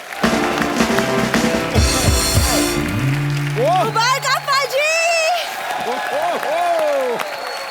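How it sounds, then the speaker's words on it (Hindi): Studio audience on a Hindi comedy talk show applauding and cheering loudly, a dense sustained wash of clapping with whoops, overlaid by music stings and voices talking and calling out. "जोरदार तालियां सिद्धू पाजी के लिए।"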